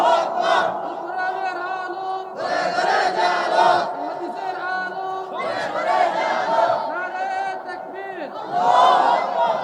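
A large gathered crowd shouts back a takbir call in unison, several loud, swelling bursts of massed voices one after another, near and reverberant.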